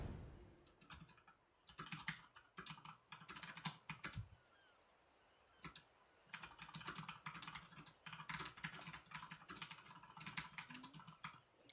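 Quick clattering keystrokes on a computer keyboard come in bursts of rapid typing separated by short pauses, close and fairly quiet, while notes are taken on Tekken 8 Devil Jin play.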